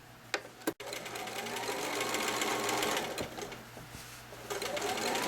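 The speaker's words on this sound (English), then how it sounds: "A fancy one of my stitches on my Bernina machine" A Bernina sewing machine running a fancy decorative stitch, a continuous fast mechanical whir close by after a couple of brief knocks at the start, with no one talking.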